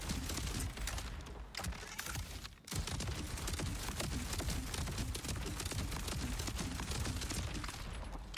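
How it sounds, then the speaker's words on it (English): Rockets fire automatically in Borderlands 4, a dense, continuous barrage of rapid blasts and crackling impacts that hardly lets up, loud and close throughout with one brief dip partway. "And the rockets automatically fire."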